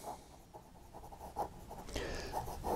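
A Hero fountain pen with a dark yellow celluloid body scratches across Fabriano paper in short, soft strokes with small pauses, close and quiet, the strokes growing a little busier toward the end.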